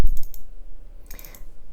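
Mouse buttons clicking at a computer while working in DaVinci Resolve, a few close, crisp clicks in quick bursts separated by a short quiet gap.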